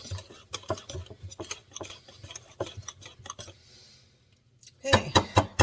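Sourdough pancake batter with starter being stirred in a bowl, a run of rapid wet scraping strokes near and clear, pausing briefly before a few louder clattering knocks at the end.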